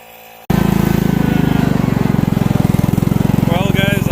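A Kohler engine on a go-kart bursts to life after a brief quiet moment, then runs at a loud, steady, close-up chug with a rapid even pulse, and a voice briefly cuts in near the end.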